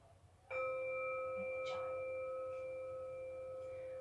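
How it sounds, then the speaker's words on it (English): A yoga relaxation for young children closes with a single chime struck once, its clear ringing tone holding steady and fading only slowly as it sustains over a quiet room. "I should have ended that relaxation with the chime, so I'll just end it now."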